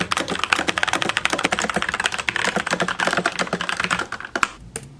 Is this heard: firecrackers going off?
no